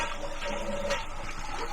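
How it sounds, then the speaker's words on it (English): A toilet flushes nearby, giving a steady, rushing gurgle of water that runs evenly through the short stretch without a clear start or finish. "the flapper open, the water goes down, that flushes the toilet"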